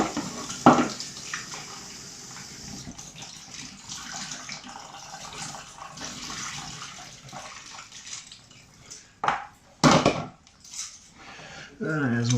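PlayStation 2 controller parts are rinsed under a running tap into a sink, a steady wash of water with a few sharp clatters and splashes of plastic pieces near the end.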